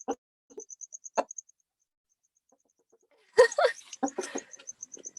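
A rooster on a homegrown food farm lets out loud, ragged crowing bursts close by, with a high chirping bird repeating faintly in the background and a quiet pause between calls.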